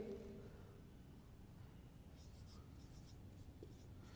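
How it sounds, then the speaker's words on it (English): Faint, steady scratching of a pen or marker writing a French example by hand during a beginner language lesson, continuous soft strokes over quiet room noise. "let me write one example"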